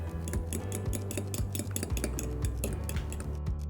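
Eggs being beaten with sugar in a bowl for an Asian rice dish, giving a steady run of quick, light clinks and taps of utensil against bowl at close range, with no talking.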